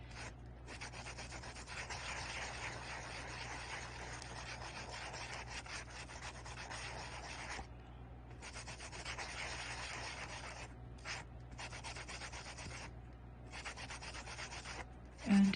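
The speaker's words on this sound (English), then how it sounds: "And if I sand away to white, that's okay." Polymer clay chevron beads are sanded by hand in sustained raspy rubbing strokes, close and steady, with a few short pauses and a small knock at the end.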